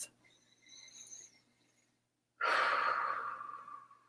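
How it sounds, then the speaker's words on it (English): Deep breathing in through the nose and out through the mouth: a soft, airy nasal inhale, a brief pause, then a louder, breathy exhale, close and alone. "Take 3 deep breaths. Try breathing in through your nose and out through your mouth."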